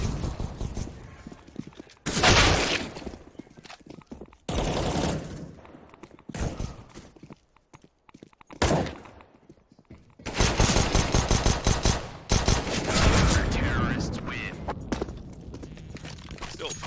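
Glock and P250 pistol fire in a CS:GO tournament match, loud bursts of rapid shots in several clusters, with game footsteps and brief quiet gaps between them and faint voices in places.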